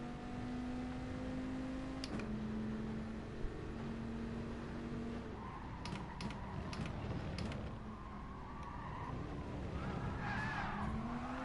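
In Gran Turismo Sport, a race car skids off the track amid engine whine and tire squeal, with shifting tones and scraping noises from nearby cars during a manufacturers' online race.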